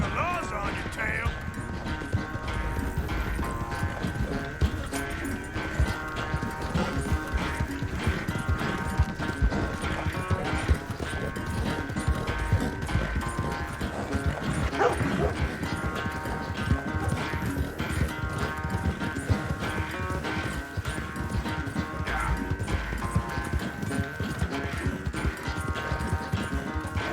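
Rapid, steady clip-clop of horse hooves galloping during a horse race in Red Dead Redemption 2, continuous and close throughout, with a musical tone and occasional voices talking over it.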